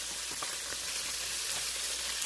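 Swai fish frying in a pan, a steady dense sizzle with faint pops, continuous and close.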